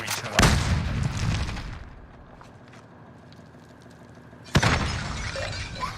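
Loud shattering bursts in Call of Duty Warzone as enemy armor breaks, one sharp crack near the start and another later, with battle noise in between.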